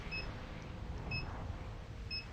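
A treadmill beeps three times, each a brief, clear electronic tone spaced about a second apart, over a low steady hum.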